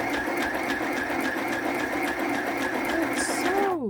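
A sewing machine stitches with white thread in a fast, steady mechanical chatter, close and continuous, then slows and winds down at the very end.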